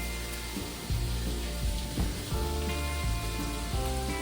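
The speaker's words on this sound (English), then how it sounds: "the smell of bacon, fried potatoes, and eggs on the stove" Bacon, fried potatoes and eggs sizzle on a cabin stove, a steady close crackle running throughout beneath a mix of tonal layered sounds with soft repeated thumps.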